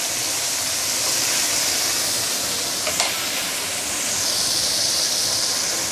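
Fish sizzles in hot oil in a wok over high heat, a dense, loud, steady hiss that fills the whole stretch with a brief crackle near the middle, no talking.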